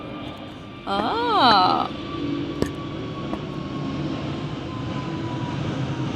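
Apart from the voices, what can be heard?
airplane flying past overhead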